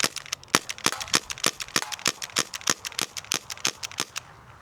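An Umarex Brodax airgun pistol fires in a fast run of about thirty sharp, quiet snaps, evenly and rapidly spaced, close by and with no voices.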